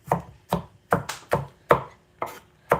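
An apple is chopped into tiny pieces on a cutting board, seven sharp knife strikes in an even rhythm, close and distinct, with no talking.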